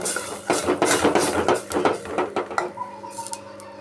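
Ground onion and coconut paste goes into a cooking pot, with a rapid series of clinking, scraping metal utensil taps against the pot, fairly close and loud, then quieter tonal kitchen hum.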